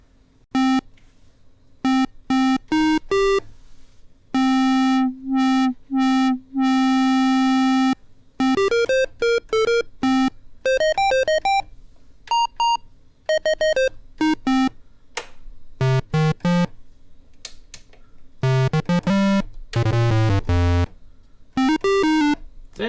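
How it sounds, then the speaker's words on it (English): Behringer MS-101 monophonic synthesizer with a 3340 VCO playing a loud sequence of bright, buzzy notes, some held and some short and staccato, with bursts of rapid stepping arpeggios and pauses of silence between phrases; no voice. "it's got that 3340 VCO in it, so definitely sounds like an SH-101 to me"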